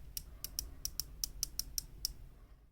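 Ratcheting clicks of a 120-click unidirectional bezel being turned on a Militado ML16 tool watch, about ten crisp, close, evenly spaced clicks over faint background hiss.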